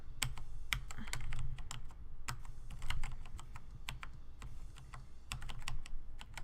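Close computer keyboard typing while playing a music game in Night in the Woods, with irregular sharp key clicks in quick clusters over a faint low background, no speech.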